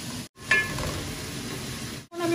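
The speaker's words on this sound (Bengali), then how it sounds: "পেঁয়াজ দেখি হয়েছে নি, পাক্কার সময় ধরে তো কুক করলাম" Onions fry in a pan with a steady close sizzle and hiss, briefly cut off twice, with a soft stirring scrape and no talking.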